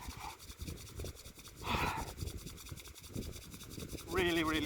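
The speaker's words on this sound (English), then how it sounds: "we can rub the hands together like this" Palms rubbed together hard outdoors in nature, a rough, rasping friction in quick repeated strokes, mixed with breathing and brief bursts of other noise.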